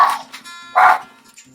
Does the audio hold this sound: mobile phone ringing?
no